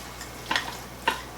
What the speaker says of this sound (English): let's finish mixing the meat together with the cheese.